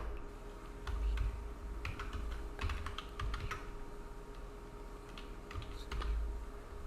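A GST number typed on a computer keyboard: a quiet, irregular run of crisp key clicks with short pauses over a steady low background hum.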